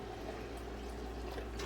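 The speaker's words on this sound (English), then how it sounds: "we're going to add 2 cups of vinegar" White vinegar pouring into a pot for pickling brine, a steady low liquid rush continuing without a break for the whole stretch, close and moderately quiet, with no talking.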